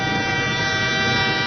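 A train horn blasting as one steady, loud, sustained tone with no break.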